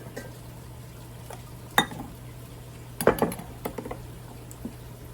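A pot is moved around a home kitchen while Southern-style berries and dumplings are being made: one sharp metallic clank, then a cluster of clinks and knocks, close by over a steady low hum.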